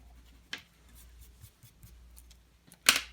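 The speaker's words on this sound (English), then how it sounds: "So I'm gonna go back in and erase this bottom line here." Pencil line erased on paper during a drawing session, heard as two short, faint rubbing bursts separated by quiet scratchy handling noise.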